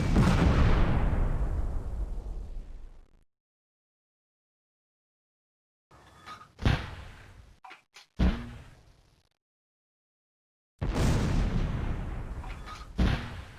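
Gunfire and artillery in the Close Combat: A Bridge Too Far war game, heavy booming blasts with long rumbling decays, separated by silence, then a cluster of sharp sudden shots before another loud sustained rumble.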